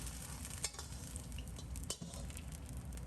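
Cut green and red chili peppers are flashed through hot oil in a strainer, giving a faint, steady sizzle and crackle with occasional soft metallic clinks of kitchen utensils.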